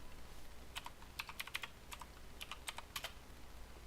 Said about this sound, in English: all you need to do is just come over here and type in command prompt